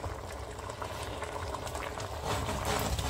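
A pot of beans and salt fish sauce bubbles and simmers steadily on the stove, a close, continuous wet bubbling hiss that swells slightly near the end, with no voices.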